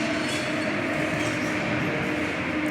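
A Paris Metro subway train rolls along with a steady, loud, continuous rumble and hiss, a constant droning roar with no break and no voices.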